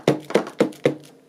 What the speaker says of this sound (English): Sorry about the banging noise.